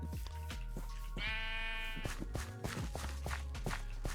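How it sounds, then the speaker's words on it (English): Sheep bleating in a Minecraft-style modded video game, a tonal bleat rising from the middle of a busy mix of game music and footsteps, fairly close and moderately loud. "We have a sheep!"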